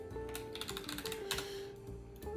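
Quick light keystrokes on a computer keyboard, a short burst of soft clicks over faint background tones, close and quiet.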